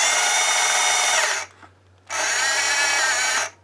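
Whirring buzz of a cardboard tube spinning inside the barrel of a 1978 Kenner Star Wars laser rifle toy, two loud sustained bursts separated by a brief pause, close and steady.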